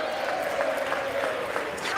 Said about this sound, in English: And they cheer.